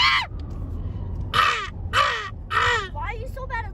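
A person imitates a crow during a live city drive, giving four or five harsh, nasal caws in an uneven rhythm, loud and close over low road rumble.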